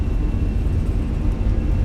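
Fenix A320 jet engines at takeoff thrust in Microsoft Flight Simulator give a steady, loud, low roar with a faint whine, constant and without talk.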